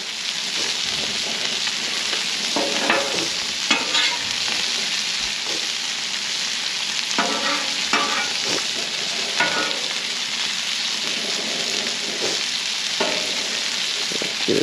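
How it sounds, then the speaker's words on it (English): Butter sizzles steadily with flounder fillets seasoned with steakhouse seasoning on a Blackstone griddle, a continuous hiss broken by intermittent spatula scrapes and clicks as the butter is spread; no one talks. "all I'm doing is kind of spreading this butter around"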